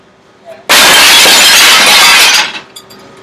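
A pane of glass is smashed with a brick, producing one loud, sudden crash that sprays into a bright, sustained shatter for almost two seconds before tumbling fragments trail off to quiet.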